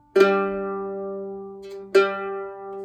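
Two bowed notes on a viola's G string, each starting with a firm attack and sustaining with rich overtones, played alone with no talk.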